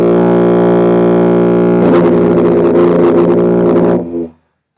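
Tuba sounding a sustained low B flat, a steady rich brassy tone held for about four seconds with a slightly buzzier, more agitated attack midway, then stopping cleanly into silence.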